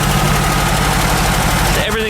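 A VW Super Beetle Volksrod air-cooled engine running after a fix for misfiring spark plug wires, loud and close with a steady rumbling idle that cuts off abruptly near the end.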